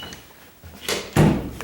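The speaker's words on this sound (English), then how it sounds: "You can pull the door right open." A door whose latch fails to catch the strike plate is pulled open, giving two short knocking rattles close by, the second and louder one followed by a brief clunk, with no voice over them.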